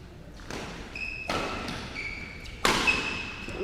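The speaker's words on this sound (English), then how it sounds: "Powerful shot from Wilkie" Sharp shuttlecock smashes struck by badminton rackets during a championship rally, a few crisp impacts spaced apart with the last hit loudest, over faint arena ambience.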